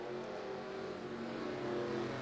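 Race car number 85 keeps driving after tumbling down the front stretch at Bristol during an LSCI All Star Race, its engine a steady, continuous drone at moderate distance with no talk.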